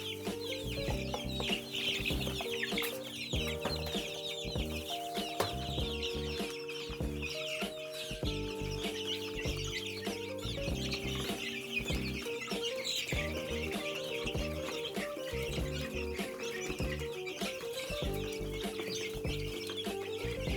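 A backyard flock of chickens clucks and squawks excitedly over feed, a busy, overlapping chorus of calls close by that keeps going steadily for about twenty seconds, with no talking.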